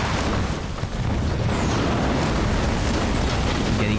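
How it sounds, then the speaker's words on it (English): Bombing explosions from Halo Wars 2 rumble continuously in a loud, dense wash of booms and bursts with no clear gaps. "Getting bombed a little there."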